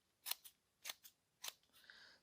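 Scissors snip through a paper strip in a quiet room, with several crisp, close cuts in quick pairs and a soft rustle of paper at the end.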